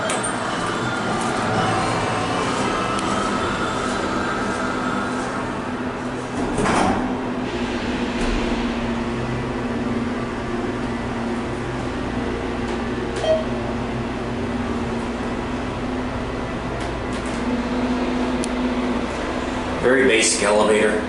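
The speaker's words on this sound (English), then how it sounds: "Very basic elevator." Thyssenkrupp hydraulic elevator at Willow Grove Park Mall runs with a steady low hum and mechanical whir, a door-like clunk partway through and rising noise near the end.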